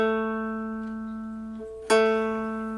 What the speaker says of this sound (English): Fret your freshly tuned bass string, the one we just tuned, that now sounds like this,